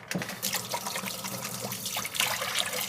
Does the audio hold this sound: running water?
yes